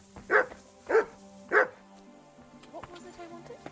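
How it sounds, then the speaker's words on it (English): Max the dog barks in Kingdom Come Deliverance 2, giving three loud, evenly spaced barks near the listener, followed by quieter background sounds from the game. "What are you barking at?"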